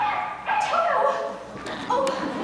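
Toto the dog in a stage production of The Wizard of Oz gives several short, high yips and whimpering barks in bursts, fairly close, with a voice mixed in.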